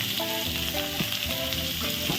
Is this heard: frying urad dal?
yes